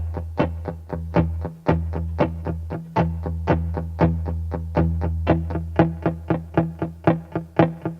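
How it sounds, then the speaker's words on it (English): Heavily palm-muted guitar string plucked in a fast, even rhythm, each note a short percussive thump with little sustain, dry and close with effects coloring the tone. "So the percussive sound will come with a more heavy mute."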